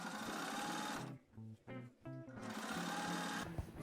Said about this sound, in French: On va faire une ligne droite sur un des côtés à la machine.